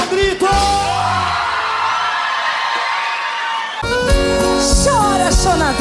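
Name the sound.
audience shouting in response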